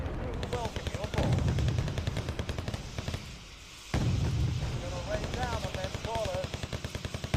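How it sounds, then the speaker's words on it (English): Artillery cluster bombardment across a town in the Wargame Red Dragon strategy game, a rapid rattling barrage of explosions with a brief lull before the impacts resume, under a voice. "It's gonna do a wide cluster bombardment pretty much all over the town."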